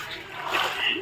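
A brief splash as a swimmer dives into clear, cold water during a picnic swim, a short wet burst up close with voices around it.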